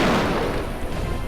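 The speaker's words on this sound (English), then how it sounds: "That sounded like I summoned lightning" Lightning strike effect from The Witcher video game, a single loud crackling boom that fades over about a second with no voices.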